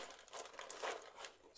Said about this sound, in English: I also have these brand new stickers